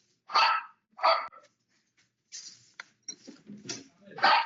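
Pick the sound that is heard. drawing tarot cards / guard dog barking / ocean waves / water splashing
guard dog barking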